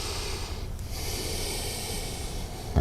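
Steady breathing during a yoga stretch, a continuous airy breath sound close to the mic, with a brief nasal snort-like exhale partway through and no talk.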